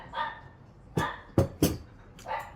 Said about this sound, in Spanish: Ladran los pichichos.